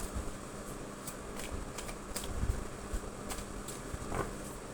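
Tarot cards are shuffled and drawn by hand in a quiet room, giving a soft, continuous papery riffle with light flicks and taps close up.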